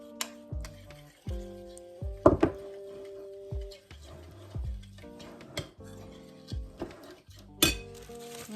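A spoon clinks and knocks against a bowl while icing for banana bread is mixed, a run of irregular sharp taps and scrapes with short pauses, close and clear, no talking.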